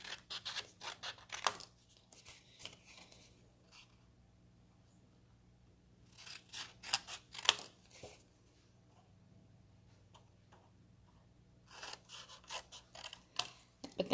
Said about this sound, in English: Now what you're going to do is you're going to cut, leaving a little bit of a margin there